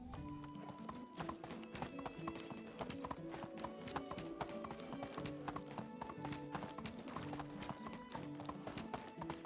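Donkey hooves clip-clop in a quick, steady rhythm while riding in Medieval Dynasty, close and continuous over game music with sustained tones.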